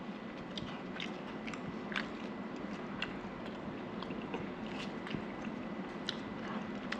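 Chapati being eaten with hot egg roast and kurma, with close, soft chewing and biting sounds repeating steadily throughout.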